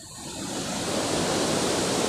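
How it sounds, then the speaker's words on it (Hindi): Muddy water pouring over a rock ledge into a river below, a steady roaring rush of falling water that swells slightly and stays constant and close throughout. "यहाँ पे वो झरने के रूप में गिर रहा है।"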